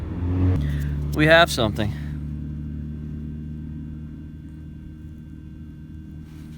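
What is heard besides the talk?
car driving past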